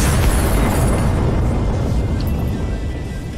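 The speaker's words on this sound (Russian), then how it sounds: "Бомба взрывается" A bomb detonates in a video game, a heavy, rumbling boom that fills the mix at full loudness and slowly decays over a few seconds.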